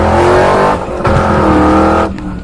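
A car driven fast roars with a loud, close revving engine, a steady high drone that dips briefly, then surges again before easing off.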